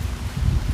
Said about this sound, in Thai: นี่ก็ลมเย็นโว้ยเนาะ